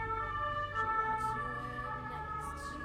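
Fire engine siren wailing in the street, a steady, moderately distant tone passing by behind low traffic noise.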